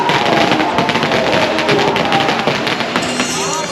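Fireworks at a Chinese New Year festival in Chiang Mai: loud, dense crackling bursts and pops overlapping continuously, with crowd noise and a few whistling streaks near the end.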